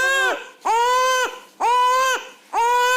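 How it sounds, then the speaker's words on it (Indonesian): A baby wails in three long, loud, close cries separated by short gasping pauses, each one rising and falling in pitch, with no other sound around it. "Kak, kok sepertinya ada suara bayi ya?"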